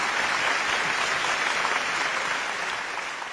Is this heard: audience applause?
yes